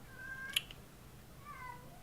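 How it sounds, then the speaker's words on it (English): A pet cat named Rain gives two drawn-out meows, the first near the start and a second toward the end, with a short sharp click between them, indoors and fairly close over a low steady room hum. "Rain's meowing really loudly"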